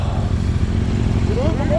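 A 2017 KTM SuperDuke 1290R being ridden, its engine a steady loud drone under constant wind rush, with a rising whine of revs near the end and no talking.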